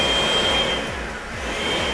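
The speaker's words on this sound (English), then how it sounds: "So anytime I throw the master switch, the relay is being overridden, and it's just straight power going through" A workshop vacuum switched on through a master switch runs as a loud, steady motor roar with a whining tone, continuous and close.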